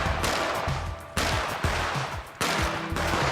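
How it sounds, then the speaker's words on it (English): Rapid exchange of gunfire from the arcade video game Red Hot Ricochet, with repeated sharp shots over a loud, busy game soundtrack in a tournament setting. "Shots exchanged."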